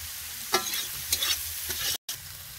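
Onion and spices sizzle while being stirred and fried in a pan, with intermittent scraping stir strokes over a steady frying hiss and a brief dropout near the end.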